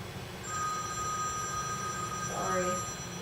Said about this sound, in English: Forgot to turn my phone on silent again